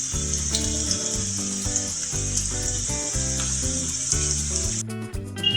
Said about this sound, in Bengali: মিডিয়াম আঁচে পেঁয়াজটা একটু লাল করে ভেজে নিতে হবে।